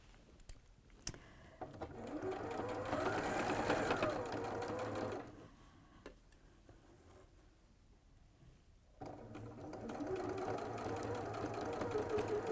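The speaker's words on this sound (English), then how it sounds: "I'm sewing from the center where all the layers are to the outside" A sewing machine stitches a quarter-inch seam through layered fabric for a bag or wall hanging, running in a steady fast whir for several seconds, pausing, then starting again, fairly quiet and close.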